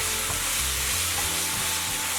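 Garlic scapes and wood ear mushrooms stir-fry in a wok with a dense, loud, continuous sizzle and hiss. Faint lower rumbles of tossing run underneath, and no one speaks.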